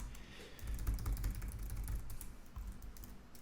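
An email address is typed on a computer keyboard in quick, uneven bursts of light clicking keystrokes, close and fairly quiet, with no voice over the tapping.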